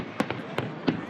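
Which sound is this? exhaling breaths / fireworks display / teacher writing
fireworks display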